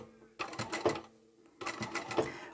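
Sewing machine stitching through several layers of fabric with folded raw edges, two bursts of rapid mechanical stitching separated by a quiet pause, fairly close.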